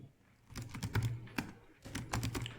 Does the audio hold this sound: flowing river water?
no